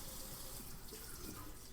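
Water runs steadily from a Kraus KPF-1650SS stainless kitchen faucet into a sink, a continuous close hiss and splash that holds level throughout, with no voices.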